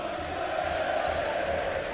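Football crowd at full time of an FA Cup tie between Swindon Town and Aldershot Town, a steady dense roar of jeers and cheers filling the stadium, broad and continuous throughout.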